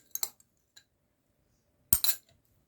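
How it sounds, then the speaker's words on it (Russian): A metal spoon stirs gelatin into cooked cherries for a cherry jelly layer, giving a few sharp, close clinks against the bowl, then a louder clattering burst near the end, with no talking. "И хорошо вымешиваю, перемешиваю, чтобы желатин хорошо растворился."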